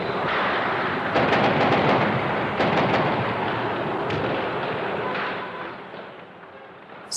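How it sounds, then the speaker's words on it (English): Dense, continuous crackling gunfire as soldiers open fire on protesters, rapid overlapping shots sounding loud and sustained with no clear gaps, tapering slightly toward the end. "Soldiers opened fire on the protesters."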